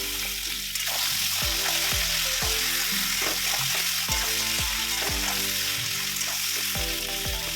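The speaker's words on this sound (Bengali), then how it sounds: "পেঁয়াজ ভালো করে ভাজা হয়ে গেলে তার মধ্যে সেদ্ধ করে রাখা কচু দিয়ে দিচ্ছি।" Boiled taro fries with onions in a hot pan, a steady loud sizzle with repeated clinks and scrapes of stirring.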